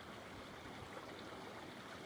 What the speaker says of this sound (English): listen to the beauty of the water